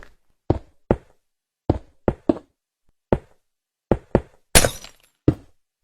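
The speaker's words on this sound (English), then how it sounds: "Then place your glass blocks like this." Sharp, close knocks and thunks of glass blocks being placed in Minecraft, about ten separate hits in an irregular rhythm, one ending in a brief glassy crash, with silence between.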